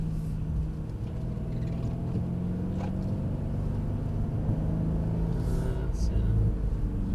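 Mercedes-AMG car on a track accelerating under power, a steady loud engine rumble and drone with some road noise that holds throughout, close and continuous.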